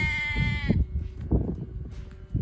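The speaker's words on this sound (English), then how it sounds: "Hello, lambs." Lambs bleating beside a garden plot, a long wavering bleat opening the clip, then several shorter calls and rustling, fairly close and loud outdoors.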